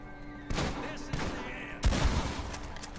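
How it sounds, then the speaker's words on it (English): Heavy blasts from a pump action shotgun in Red Dead Online, a few loud booming shots spaced apart amid game noise. "And I'm using my pump action shotgun."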